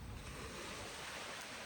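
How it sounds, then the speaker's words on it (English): Lake waves lapping at the shore near Lake Simbi Nyaima on Rusinga Island, a steady broadband wash with a windy, breezy edge and no pauses. "The waves from the lake."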